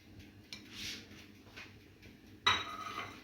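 A spoon scrapes and clinks against a pan while stirring roasted chopped peppers into a sauce, with soft clatters near and a sharper metallic knock near the end, no voices.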